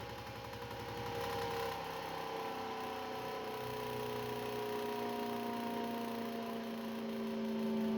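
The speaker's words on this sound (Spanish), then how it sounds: "Y ahí podemos escuchar incluso la diferencia de lo que son las revoluciones del ventiladorcito" A mini fan motor, its speed set by a potentiometer, whirs in a steady tonal hum that stays up close and constant throughout, with the pitch easing as the voltage is turned down.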